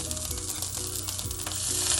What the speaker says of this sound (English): I'm gonna add a little bit of butter to that too